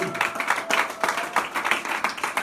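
A church congregation applauds at a worship service, with rhythmic clapping pulsing steadily and fairly loud throughout, a sustained tone faintly behind it.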